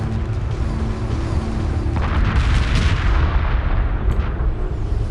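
Bombers destroying a hyperspace gate in Homeworld 2 Remastered, a dense continuous rumble of heavy booms and weapon fire, loud and steady throughout, with a swelling blast near the middle.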